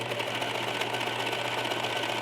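A serger runs fast and steady while stitching off the bottom of a skirt seam, giving a continuous buzzing, whirring hum with a rapid mechanical chatter and no talk over it.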